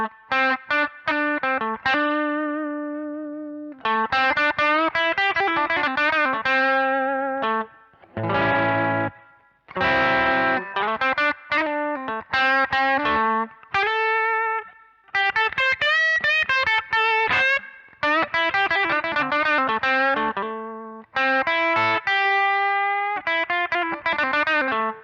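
A Kramer electric guitar played through its humbucker pickup with heavy distortion rings out in loud, sustained chords and riffs, with a few brief pauses between phrases and no voices.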